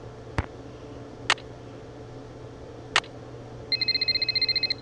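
Telephone ringing in the Nancy Drew: The Haunted Carousel video game: a few sharp clicks, then a rapid electronic trilling ring that starts near the end, bright and steady against a low ambient hum.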